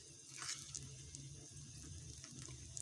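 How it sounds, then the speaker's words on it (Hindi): Water trickles steadily into a bowl of pakora batter, a soft continuous splashing with a few brighter drips, close by and fairly quiet, no voices. "इसमें थोड़ा सा पानी थोड़ा थोड़ा करके डालते जाएंगे"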